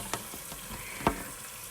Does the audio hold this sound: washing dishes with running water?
yes